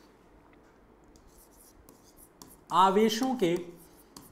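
Faint, soft scratches of writing on a board during a physics lesson on electric charges, followed by a brief burst of speech that covers the quiet strokes.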